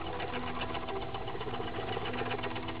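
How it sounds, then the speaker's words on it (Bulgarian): A motor revving up with speed increasing, a fairly faint, steady mechanical whir with a rapid rhythmic clatter running continuously. "Виждате как се увеличават леко оборотите, но аз няма да ги чакам. Аз ще си го ускоря,"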